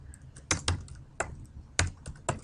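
Keys clack on a computer keyboard in short, uneven bursts of sharp taps, close and clear, with no talking.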